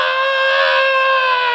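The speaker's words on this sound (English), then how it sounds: "scream" A single sustained, piercing scream from a superhero film teaser rings out loudly and evenly for over a second, with no other sound.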